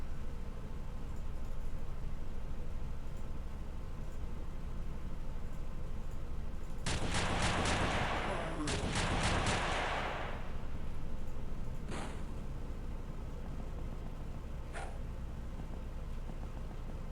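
Bursts of rapid gunfire from the turn-based strategy game XPiratez crackle over a steady noisy bed, with a dense volley of shots lasting a few seconds followed by two isolated single shots, and no voices.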